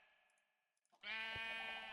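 Sheep in a Minecraft modpack let out a loud, sustained bleat that starts abruptly midway and holds to the end, preceded by faint small game clicks.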